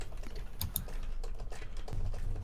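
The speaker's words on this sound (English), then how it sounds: "Playing drums on their keyboard" Fast typing on a computer keyboard during a tabletop Dungeons & Dragons session, a busy patter of close key clicks with a couple of sharper taps, heard alone without talk.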